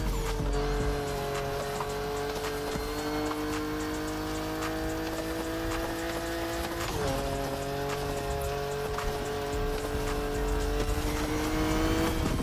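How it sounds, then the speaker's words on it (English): Off-road race car in The Crew Motorfest on a volcano course, engine roaring continuously at high revs with a gear shift midway and tires squealing and grinding, loud and unbroken throughout. "You're literally about to burn the rubber off your tires."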